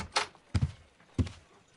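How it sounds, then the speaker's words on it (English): Three brief thuds and clunks mark the front door of a Victorian London house in a Sherlock Holmes detective game, quiet and close, spaced across under two seconds with no voices. "I just heard the front door"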